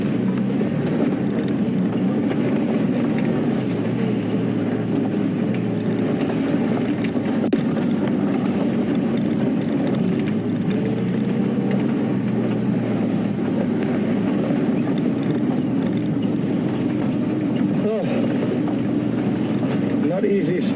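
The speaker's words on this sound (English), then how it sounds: "Reposition the vehicle quickly again so we can show you a better view" A safari vehicle drives during a morning game drive and is being repositioned, a steady loud engine rumble that runs throughout with no clear breaks.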